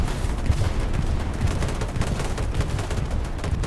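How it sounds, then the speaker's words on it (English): A bombing run in Hell Let Loose on the Utah map, a dense continuous roar of overlapping explosions and gunfire rumbling steadily throughout, loud and without a break. "Bombing run coming in."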